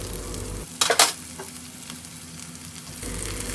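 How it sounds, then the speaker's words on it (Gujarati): Boiled moth beans are stirred into cooked, softened kantola sabji in a sizzling pan, with a few scraping spoon strokes over a steady frying hiss. "તો હવે આપણે તેમાં આ બાફેલા મઠ છે તે મિક્સ કરી દેવાના છીએ"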